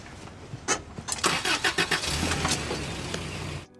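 A car engine turns over and catches, a run of loud cranking bursts settling into a rough running rumble before cutting off abruptly.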